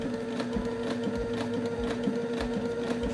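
A Sailrite sewing machine with a walking foot and binder attachment stitches a bound hem, its needle thumping in a quick, steady rhythm over a constant motor hum, close and alone.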